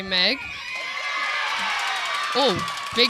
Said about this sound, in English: The crowd's very loud